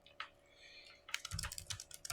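Rapid typing on a computer keyboard, a close, dense run of clicking keystrokes after a brief quiet lead-in with a few scattered taps.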